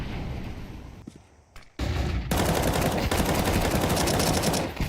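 Pistol gunfire in a Counter-Strike grand-final match, a burst of loud close shots after a brief quiet stretch, then dense rapid firing that carries on to the end.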